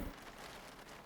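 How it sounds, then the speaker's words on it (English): Soft, steady rain ambience plays quietly behind a Call of Cthulhu tabletop horror game session, an even wash of falling drops with no distinct thunder and no talk. "The sound of the rain and thunder and lightning that's still going on"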